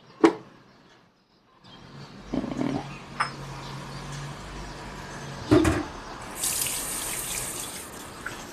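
Water from a tap runs and splashes into a container for coffee at sunrise, starting after a brief clunk and pause, with handling knocks and a rising hiss toward the end.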